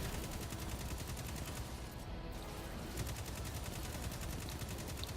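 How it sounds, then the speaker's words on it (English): Gunfire in the Destiny 2 video game rattles in rapid, steady bursts, a faint but continuous automatic stream of shots running through the whole stretch. "I'm gonna shoot the guy on the right."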